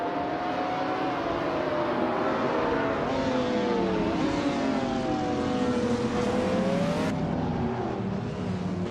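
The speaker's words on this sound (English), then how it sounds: "the race has just kicked off at the Aviano short track, and leading the pack is Bot Solage Hedonian 81 in a classic 2003 Lamborghini Gallardo" Engines of several race cars in a video game race at the Aviano short track, a 2003 Lamborghini Gallardo leading, drone steadily with rising and falling revving pitches, loud and continuous throughout with no talk.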